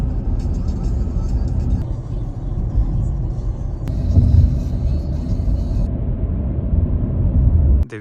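Car driving along an open road in Cyprus, a steady low engine and road rumble filling the cabin throughout, with a brief swell midway and faint higher whir above.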